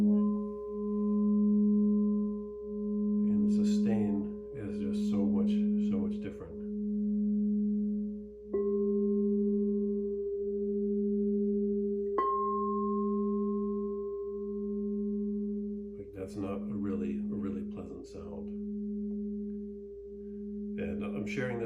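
A Crystal Tones G sharp crystal singing bowl rings in a long, steady, pure sustained tone that holds evenly throughout, with brief bursts of talking over it at several points.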